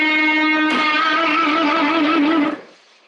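A single sustained electric guitar note, an E picked on the G string, with effects and slight distortion; a second attack rings out and holds steadily for about two seconds before being cut off, played alone with no talk.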